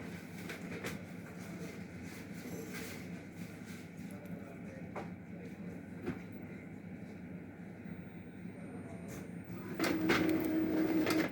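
An Epson L3250 inkjet printer pulling in a sheet of paper and starting to print, a faint continuous mechanical whir with small clicks that grows louder near the end.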